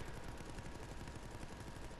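Rapid machine gun fire in Resident Evil Resistance, a steady stream of quick, evenly spaced shots that runs unbroken and fairly quiet throughout.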